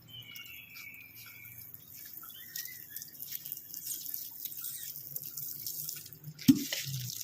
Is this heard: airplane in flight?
no